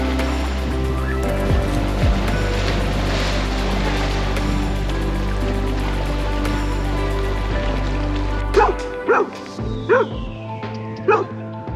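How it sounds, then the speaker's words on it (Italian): Two dogs bark and yip near the sea during an outdoor meal. The barking is steady under a constant background rumble, then sharp, close yelps break out near the end. "Sono venuti intanto a trovarci due amici pelosetti e ora gli diamo da mangiare qualcosina."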